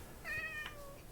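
A single cat meows in Minecraft, a short clear tonal call rising and falling over faint background hum, with no talk.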